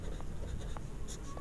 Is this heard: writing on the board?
yes